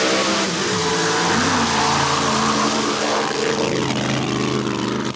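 Mud racing vehicles roar off the start line at a 1994 NMRO event at TNT Raceway Park, loud close engines revving and climbing in pitch, with no talk over them.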